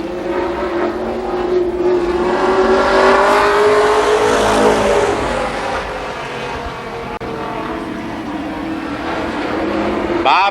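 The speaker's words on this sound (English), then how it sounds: "4 cars, 4 laps, your fastest 4 late model qualifiers." Late model race cars roaring through qualifying laps at Columbus Motor Speedway in 1993, a loud, sustained engine drone that swells and fades as the cars circle the track.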